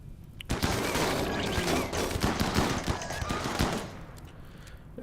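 Rapid bursts of gunfire from the video game RimWorld crackle densely and loudly for several seconds, overlapping shots forming a sustained fusillade before thinning out.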